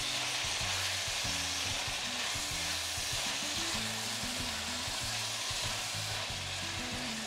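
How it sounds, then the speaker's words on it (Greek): Onion and beef sautéing together in a pot for a traditional Greek beef kapama, giving a steady, close sizzle and crackle, with low clunks of stirring running underneath and no talk. "Και αφήνουμε να σοταριστεί, να τσιγαριστεί λιγάκι το κρεμμύδι μαζί με το κρέας"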